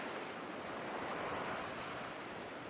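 Ocean waves wash steadily onto a sandy beach, a continuous broad hiss of surf with wind and no voices.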